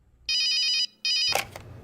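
Two bright, buzzing telephone rings sound in quick succession, each about half a second long, close and loud, followed by a brief clatter as the call is picked up.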